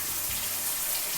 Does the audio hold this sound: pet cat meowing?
no